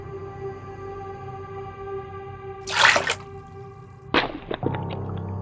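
A doll plunged into a bucket of water in a bathroom gives a brief sloshing splash, then a sharp knock and a short trickle of water, heard over a steady low background hum.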